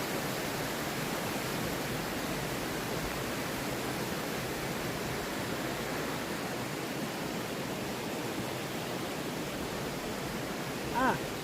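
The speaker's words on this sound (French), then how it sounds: "il y a une petite cascade juste là-bas que je vais vous faire voir" A small natural waterfall cascading outdoors, a steady, dense rush of falling water that stays constant and fairly close throughout.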